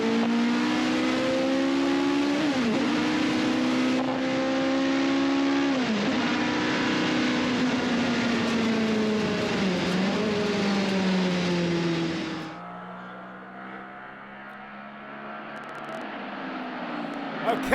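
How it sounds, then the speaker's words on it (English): Loud McLaren M8 race car with a 700-horsepower big block Chevrolet engine at Sydney Motorsport Park, roaring close by with rising and falling revs through gear changes, then dropping to a lower, more distant drone. "Have a listen to this, Chris. It's a big block Chevrolet. It's got 700 horsepower and it weighs 700 kilograms."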